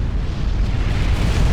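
Support commanders blowing up in a six-versus-six video game match, a heavy, sustained low boom that rumbles loud and dense throughout.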